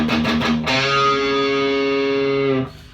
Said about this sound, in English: you're going to bend your 4th fret of your 5th string up a half step.